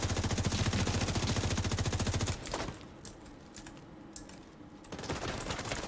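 Gunfire in a Division 2 player-versus-player match: a fast, loud burst of automatic fire for about two seconds, then quieter scattered shots and clatter, before another rapid volley returns near the end.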